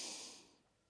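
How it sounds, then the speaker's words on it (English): A single deep breath drawn in slowly, soft and airy at close range, fading away after under a second. "take a big breath"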